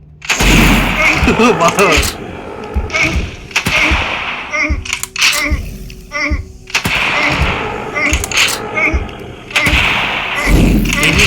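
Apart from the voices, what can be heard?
sniper rifle shots in the mobile video game Same Room Same Day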